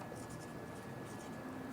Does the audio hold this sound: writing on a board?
yes